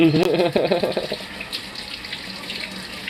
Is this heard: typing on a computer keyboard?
no